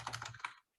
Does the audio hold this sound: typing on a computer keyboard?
yes